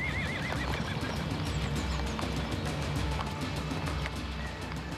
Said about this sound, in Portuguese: Os cavalos que vocês têm aqui são lindos.